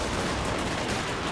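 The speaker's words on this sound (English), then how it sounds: "this big rectangle of Thunderers is going to open fire as well" Dense, continuous gunfire crackles from Dwarf Thunderers and a Skyhammer opening fire in a video game battle, a loud unbroken volley with no speech over it.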